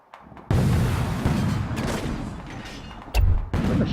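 Heavy artillery and mortar fire booms in the Toy Soldiers video game, a dense roaring barrage of close, loud blasts that swells in two heavy bursts without any talking.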